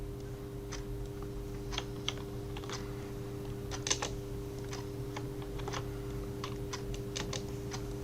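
Computer keyboard keys clicked in an irregular scatter of sharp, close taps, as in pressing Control J in Photoshop, over a steady electrical hum and with no voice.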